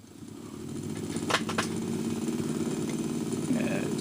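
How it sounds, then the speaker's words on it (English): A Sony TC-252D stereo tape deck runs with a steady low mechanical hum and whir that swells slightly as it spins up, with a couple of brief clicks early on. "watching that spin up is the noise"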